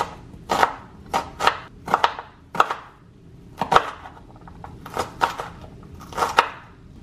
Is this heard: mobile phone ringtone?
no